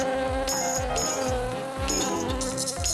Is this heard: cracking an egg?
no